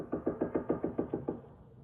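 A run of about nine firmer knocks strikes a cabin door, evenly paced and louder than a tap, fading slightly toward the end with a low room hum underneath.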